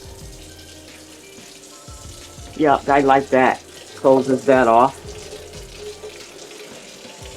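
A Moccamaster coffee maker bubbles and hisses steadily as it brews, a close, continuous watery gurgle while a person talks briefly over it.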